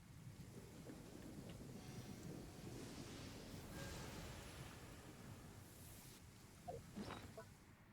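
Steady rain and wind sweep through a thunderstorm in Genshin Impact, with distant thunder rolling low beneath the downpour and a few faint clicks near the end.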